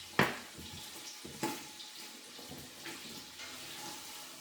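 Tap water running into a kettle in a home kitchen while a beef pie stew cooks, close splashing and gushing that surges in short bursts and then settles to a softer trickle, with no talking.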